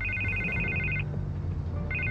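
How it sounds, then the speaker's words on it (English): In Batman: The Telltale Series, a telephone rings in a clear electronic warble, one ring lasting about a second, then a pause before the next ring begins, with no talking. "I can't get the phone to stop ringing"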